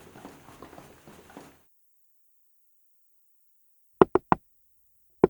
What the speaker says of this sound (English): I could hear the knuckles of whoever it was accidentally hitting the door more than intended as their hands shook